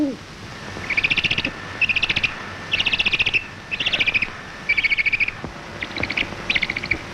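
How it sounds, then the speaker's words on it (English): Grass owl calling in the African wild, a series of about six or seven rapid rattling, chattering bursts repeated at roughly one-second intervals over a faint steady background hiss, clear and fairly close. "the wise old grass owl"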